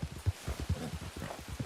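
Hooves of a horse galloping in the Red Dead Online video game, a fast, steady rhythmic thudding clip-clop at close range, loud and continuous with no talk.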